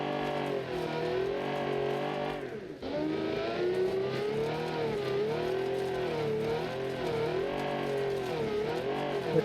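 Rear-wheel-drive car in the Mad Max video game, its engine revving loud and close with a wavering whine that rises and falls, dipping briefly before climbing again.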